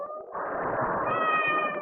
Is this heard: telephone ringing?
no